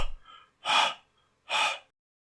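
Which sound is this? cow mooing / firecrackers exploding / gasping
gasping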